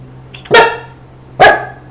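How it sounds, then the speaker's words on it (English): A dog gives two loud, sharp barks about a second apart, close by, with a steady low hum underneath and no talking. "The dog is quite upset about it, Xavier."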